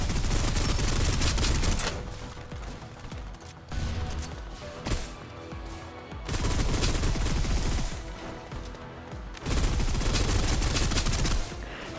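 Submachine gun in the video game Snowbreak Containment Zone firing in long, dense bursts of rapid shots, loud and continuous with brief lulls between volleys.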